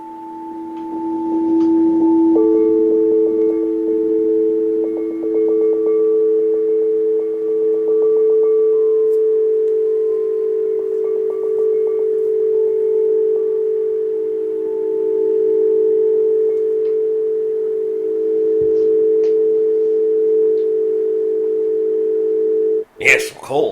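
Steady sustained tones from played tubes, a low humming drone with a second pitch joining after a couple of seconds, holding loud and unbroken for over twenty seconds before a brief rustle at the end.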